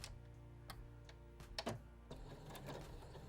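A sewing machine backstitches two stitches on fabric, a quiet run of fast mechanical ticks and clatter with a few sharper knocks in the middle, faint and close, with no talk over it.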